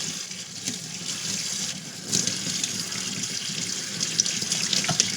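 Hot water runs steadily from a tap for cleaning a motorcycle, a continuous hissing splash with small clatters and drips, close by and without talk.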